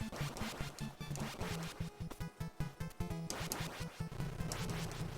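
Chiptune-style duck quacking in the Contra video game, repeated rhythmic quacks layered over busy game music and sound effects, moderately quiet and continuous across the clip.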